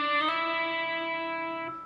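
Distorted electric guitar sliding up the G string to the 9th fret in a riff, played slowly as a single sustained note that rings out close and alone.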